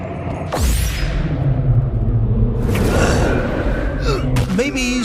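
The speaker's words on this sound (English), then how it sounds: "Is that a sin storm?" In the video game Sintopia, a sin storm sets off a deep, sustained rumble with sweeping whooshes and swells layered over it, loud and continuous, while a voice briefly gasps and murmurs over the roar.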